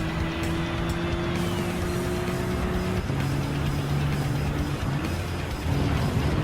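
An Alfa Romeo Giulia GTAm '20 races in Gran Turismo 7 at Red Bull Ring, its engine droning loud and steady as it accelerates, the pitch rising and then dropping at a gear change before climbing again.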